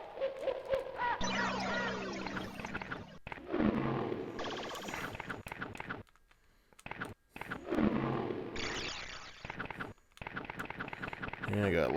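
Shrill hawk cries sound from a video game, rising and falling in several long, loud calls with brief gaps between them, over game effects and a player talking.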